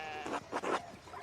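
A few short sheep bleats in the medieval village farmyard of the video game Pentiment, three quick bursts close together over a faint ambient bed, no talking.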